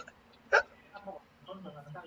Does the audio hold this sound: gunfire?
no